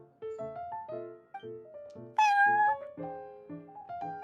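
A cartoonish cat at the Cat's Tail in Genshin Impact meows repeatedly in short, clipped mews. One louder, higher cry rises out of the middle of the run, and there is no voice over it.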